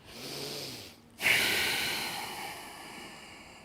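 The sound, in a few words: breathing out during a yoga breathing exercise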